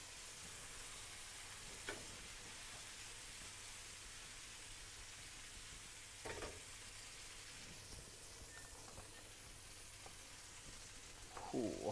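Steaks fry in a pan with a creamy sauce, a quiet, steady sizzle heard from a distance, broken by a few faint knocks and scrapes of turning and stirring.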